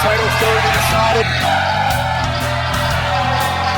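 Wrestling event crowd roaring and cheering continuously, a loud dense wash of arena noise with music-like tones underneath and no clear individual voices.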